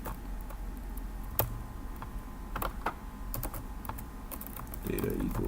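Quick, irregular clicks of a computer keyboard in bursts of keystrokes, close and fairly quiet over a soft room hum.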